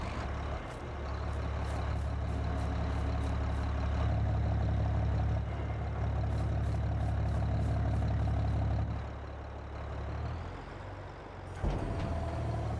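A farm vehicle engine in Farming Simulator 22 drones loud and steady with a deep low rumble, then eases back before a brief higher mechanical whine and clunk at the end, with no talking.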